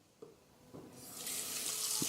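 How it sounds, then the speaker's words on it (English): Tap water runs into a porridge pot, a steady broad rush building from about halfway and holding to the end, with a few soft clinks of the pot before it starts. "put some water in"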